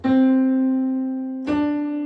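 A single sustained musical note C rings out clearly, then is struck again and held, with rich overtones and no voices.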